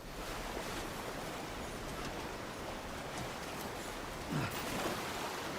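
Steady broadband rush of river water flowing along the bank in a video game, a continuous wash with a brief louder surge near the end; no voices.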